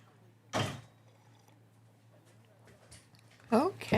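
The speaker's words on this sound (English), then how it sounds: "let me close my shower, my bathroom door over" A bathroom door is pushed closed, making a close swishing thud near the start and another knock toward the end, with someone speaking around it.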